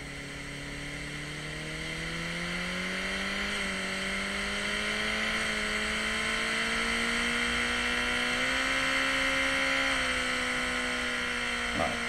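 Manual transmission car accelerating aggressively after a downshift: a loud engine whose pitch climbs steadily over several seconds, with brief dips at gear changes before rising again, heard up close without any talking.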